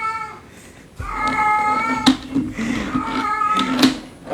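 House cat meowing several times close by, drawn-out and insistent calls with short gaps, over quiet room noise with brief clicks and handling sounds.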